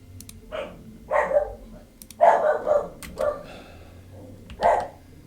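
Several dogs bark in short bursts, roughly five sharp yelps and barks spaced over a few seconds, moderately loud and close with some faint background murmur.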